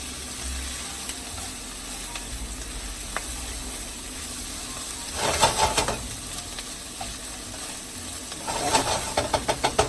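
Roasted Hatch chilies being mixed and warmed in a hot pan, a low steady sizzle broken by two bursts of crackling and scraping as the spoon stirs, close and fairly clear.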